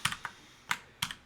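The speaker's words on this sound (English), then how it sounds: "somebody take his keyboard away. He's clicking buttons again." A computer keyboard clicks sparsely while someone plays a tabletop-style role-playing game: four or five crisp keystrokes in uneven bursts, quiet and close, with no talking.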